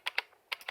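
An IBM Model M mechanical keyboard with buckling springs clacking under typing: two quick crisp keystrokes, a short pause, then three more, close and distinct with no talk.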